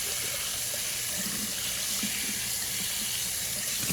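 Water running steadily from a tap while bottles are washed out, a constant close hiss and splash with faint knocks of the bottles, and no talk.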